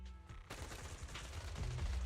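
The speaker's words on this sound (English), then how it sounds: "gunfire erupts like a relentless downpour, and sharp bursts of dust and smoke scatter across the open clearing" Sustained gunfire from a firefight in Zenless Zone Zero, a dense rapid rattle of shots that starts abruptly after a short quieter lead-in and keeps building in loudness, heavy and close throughout.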